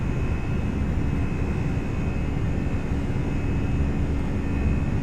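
Engines of a Toliss A319 airliner in the X-Plane 11 flight simulator drone in a steady loud roar with a faint high whine held throughout, and no talking.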